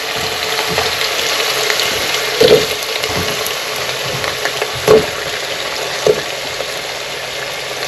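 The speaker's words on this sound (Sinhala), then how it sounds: "අල ටිකත් බැදගමු" Potatoes frying in oil for chicken biryani, a loud close steady sizzle with bubbling, broken by a few brief clunks or stirring knocks.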